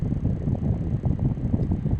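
Strong gusty wind buffeting outdoors, a steady low rumbling roar with fluctuating gusts throughout, close and loud, with no talking.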